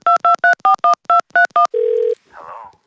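A Masters of the Universe Battle for Eternia toy phone beeps out a rapid run of eight dialing tones, then a steady buzzing tone and a short garbled electronic sound, loud and close.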